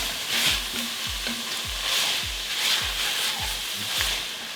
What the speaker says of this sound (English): we are going to let those two things saute with our Italian sausage